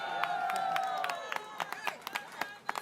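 Crowd at an election night rally clapping and cheering steadily, with sharp claps and whoops standing out near and loud over a dense wash of applause that thins a little toward the end.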